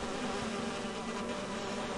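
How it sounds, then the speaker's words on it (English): Bees buzzing inside the video game Identity V, a dense continuous drone at moderate level that holds steady throughout without pauses or voices. "Hokage's inside the bees."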